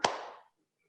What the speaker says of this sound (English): listen for the clap